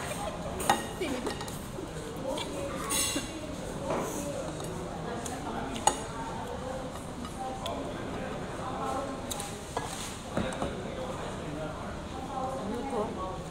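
Spoon and fork clinking against a plate at an Indian restaurant, scattered light metallic clicks and taps over constant background chatter and room noise, with people talking throughout.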